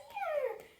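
A dog whimpers during a two-toy fetch game, one drawn-out whining cry lasting under a second that rises and then slides downward, close and fairly quiet, with no talking over it.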